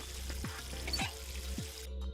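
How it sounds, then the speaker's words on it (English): Water running from a faucet into a sink in the video game Virtue's Last Reward, a steady close splashing flow with a few soft repeating low thuds underneath, cutting off near the end. "There's water coming out of the faucet."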